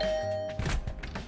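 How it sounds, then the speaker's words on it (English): Video game sound effect of a doorbell chiming with a bright tone, followed by a door opening with a short series of dull clattering thumps, close and clear. "Rang the bell outside the door. After a while, the door opened with a clatter."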